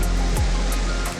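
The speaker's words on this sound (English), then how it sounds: "I've got this stream running through the vale" A stream running through a leafy valley, rushing water heard as a steady, broad, close wash of noise.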